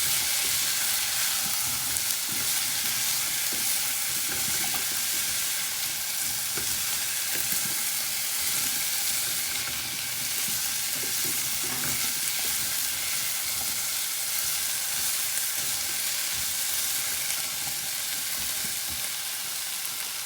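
Garlic and vegetables for an Indian cauliflower and potato curry frying in a pan, a steady loud sizzle with scraping and stirring noises throughout and no talking.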